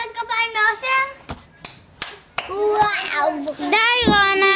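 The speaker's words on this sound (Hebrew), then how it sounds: "מחיאות כפיים לאושר?" Children clap for a boy named Osher at a family gathering on the day before the Passover Seder, a short burst of scattered hand claps mixed with excited children's voices talking.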